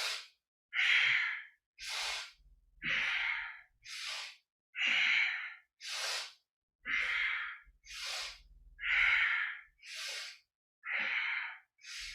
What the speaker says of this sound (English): This is a style of Kapalabhati breathing where you're forcing the air in and out in sync with your movement